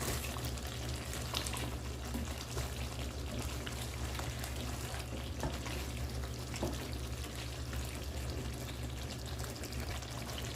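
Shrimp fry in a pan with a dense, unbroken hiss of sizzling that holds steady and loud throughout, crackling like rain, with a low hum underneath and no voices.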